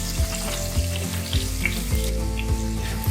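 Ginger roasts in oil with spices for Punjabi chole, a steady loud sizzle with a low rhythmic scraping of a stirring spoon repeating roughly every half second.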